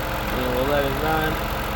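A 2011 Ford Escape 3.0 engine idling steadily after a valve cover gasket replacement, a constant low mechanical hum that holds without change throughout.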